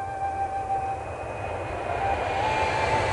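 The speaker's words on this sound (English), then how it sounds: "I had to let that plane leave without me." An airplane's engines whine and roar as it departs, a steady jet drone with a thin tonal whistle, growing slightly louder toward the end, with no talk.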